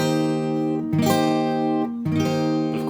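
A sustained electric guitar power chord played from the A string rings out, struck three times at roughly even intervals, each strum letting the chord hang before the next.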